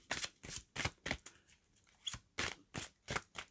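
Oracle cards are shuffled by hand in quick bursts, giving about a dozen crisp riffling swishes in an uneven rhythm, close and fairly quiet, with no talking.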